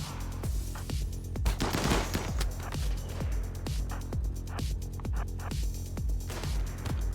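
Rapid, steady bursts of gunfire in the video game RimWorld, a continuous fusillade of sharp shots repeating at an even rhythm throughout, with no talking.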